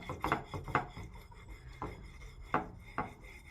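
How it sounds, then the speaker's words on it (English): A razor blade scrapes a Pebeo porcelain marker design off a porcelain surface in a series of short, rasping strokes, close and quiet, with irregular pauses between scrapes. "We can just scrape this design away with a razor blade"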